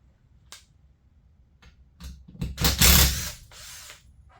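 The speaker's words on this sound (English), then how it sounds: "I gotta take that screw out that I put in there temporarily." A temporary screw being backed out with a drill during a trolley hoist build, heard as a few faint clicks followed by a short loud whirring burst of the drill, close by and with no voices.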